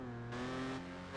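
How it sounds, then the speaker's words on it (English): Jaguar D-type engine in Project Gotham Racing 4 winding up in first gear, a steady, rising drone heard briefly and faintly without any talking. "we'll get this really slow start from the D-type. And it winds up in that first gear"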